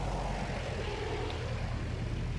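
Propeller airplane engine in Battlefield 1 during a test flight, a steady, loud, continuous drone with no break or talk.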